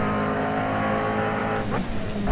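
A McLaren GT3 race car sliding around Silverstone in a racing sim, with a loud, steady engine drone and a high tire squeal rising near the end.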